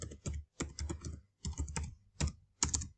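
Keys clatter on a computer keyboard in short, uneven bursts of typing with brief pauses between, close up and fairly quiet.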